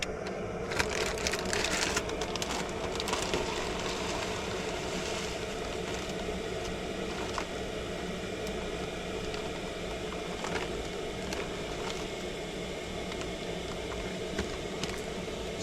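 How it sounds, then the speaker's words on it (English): Water boils for ramen on a camp stove, a steady bubbling hiss with occasional clinks near the start, moderately quiet and without talk. "And that is boiling."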